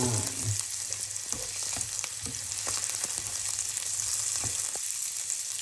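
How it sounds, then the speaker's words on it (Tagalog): Onion and garlic sautéing in a hot pan for pork pansit, a steady close sizzle and crackle with occasional stirring scrapes throughout, no talking. "gigisahin na rin natin yung onion and garlic"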